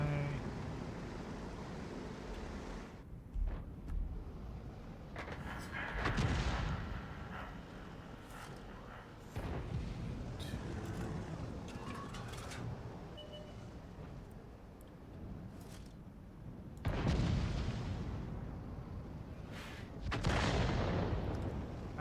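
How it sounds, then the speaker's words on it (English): A tank video game featuring a T55A tank plays booming cannon fire and explosions in several separate bursts, faint and somewhat distant, scattered across the passage. "Getting shot by Selma, getting shot by the other guy"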